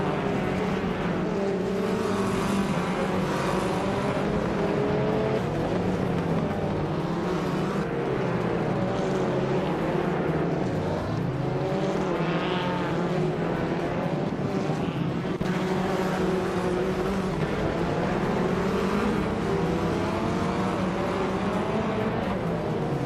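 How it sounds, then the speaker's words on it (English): A 2012 Ford Focus RS race car engine roars continuously while racing, a steady loud drone with shifting pitch over constant mechanical noise. "Maya is driving a 2012 Ford Focus RS"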